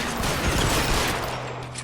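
Rapid gunfire in the 1940s Los Angeles crime game LA Noire, a dense burst of shots over a low rumble that quickly tapers off into a steady hum.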